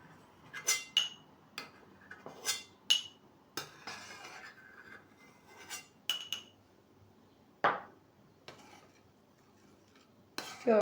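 A spoon clinks and scrapes against a pot while skimming white foam off rested oil, giving a series of light metallic taps and chinks spaced irregularly, close and fairly quiet.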